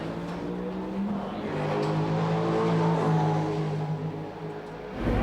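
Race cars roar off the start of the 1989 Tooheys 1000 at Bathurst, a sustained loud engine drone with rising revs and a burst of tyre spin, continuous and close for several seconds.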